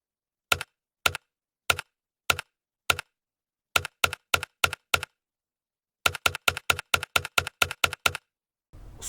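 Keys clacking on a mechanical keyboard with tactile switches, sharp, close individual presses, first spaced out in an irregular rhythm, then a quicker burst of typing, with no voices.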